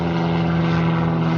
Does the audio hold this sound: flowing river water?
no